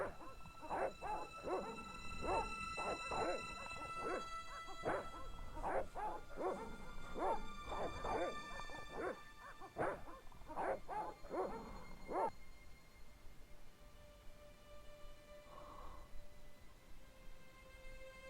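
Several dogs bark and yip in a rapid, overlapping volley in the Broken Sword point-and-click adventure game, loud and clustered, before fading to a quiet, faint whimper.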